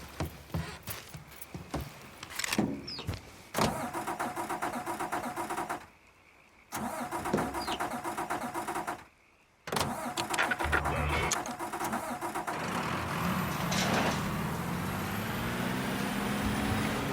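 A car in the video game Mafia 3 cranks and starts, its engine catching and cutting out briefly before revving up and driving off in a steady, loud mid-pitched drone, with no talking.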